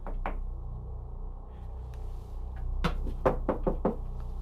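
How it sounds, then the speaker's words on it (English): Sharp knocks sound in a quiet room, a single knock early, then a quick cluster of four or five raps near the end, close and crisp. "Because I hear you like knocking."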